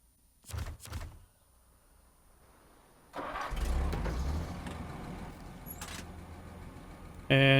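In the video game SnowRunner, a Western Star truck with the bigger engine gives a couple of cranking thumps, then starts and settles into a loud, rumbling idle that ends in a sudden burst.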